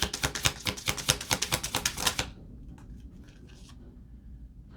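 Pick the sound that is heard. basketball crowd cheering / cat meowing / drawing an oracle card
drawing an oracle card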